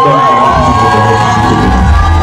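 An audience at a gala evening honouring Congolese actors cheers and shouts loudly and steadily, a full crowd roar with excited whoops and high voices throughout.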